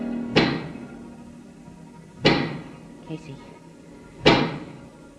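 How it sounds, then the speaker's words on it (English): Three loud, sharp knocks spaced about two seconds apart, each with a short ringing decay, presented as the strike of a giant pick in a radio drama, with a faint voice in between. "That is the sound of a giant pick."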